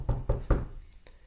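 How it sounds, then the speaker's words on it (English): Three firm, evenly spaced knocks land on a door, loud and close, followed by two fainter taps as the sound dies away. "President Truman gets a knock on his door"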